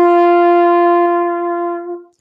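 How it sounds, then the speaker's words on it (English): Trumpet holding a single concert F note, a loud, steady, bright sustained tone lasting about two seconds before tapering off, alone. "If I play it on the trumpet, it sounds like this."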